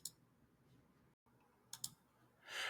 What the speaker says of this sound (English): So I can do that here by just clicking on this button to the right for that section.